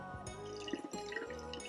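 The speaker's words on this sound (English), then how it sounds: "Squeeze some of it out. My sponge can have a little bit of water in it, actually." Water wrung from a wet sponge during a collagraph rubbing and printing lesson, falling in a few quick, close drips and trickles over a soft, steady room background.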